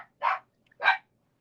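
Two sharp barks from a pet dog, close and fairly loud, spaced about half a second apart against a quiet background.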